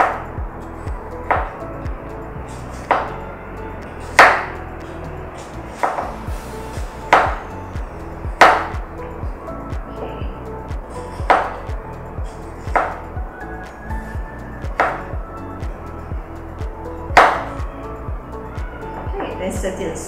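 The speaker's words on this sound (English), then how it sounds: "next we're going to cut the onions. Just use half of it." A knife thinly slicing half an onion on a cutting board, steady sharp chops repeating roughly every second, close and crisp, with a voice talking softly underneath.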